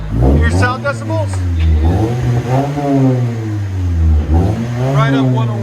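Close and loud, a muffler-deleted 2019 Toyota Camry SE four-cylinder is blipped through a series of rising and falling revs, its exhaust rasping with brief pauses between pulls.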